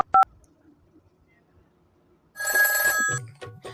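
A brief dial tone sounds at the start, then a telephone call to a hair transplant clinic rings out loudly after a quiet stretch, and a voice follows.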